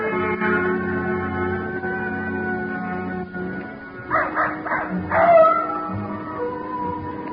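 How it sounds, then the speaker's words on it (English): A ranch dog on a romantic night in an old-time radio detective drama gives a short cluster of yips and wavering howls midway through, heard over sustained, steady background music, with no voices. "Old old Nugget the dog was carrying on a long-distance conversation with his country cousins, the coyotes up in the hills"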